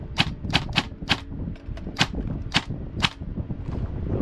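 A VFC Avalon airsoft M4 with a 13:1 SSG gearbox fires on full auto at a range in short bursts of sharp, rapid snapping shots, loud and close, over a steady mechanical background.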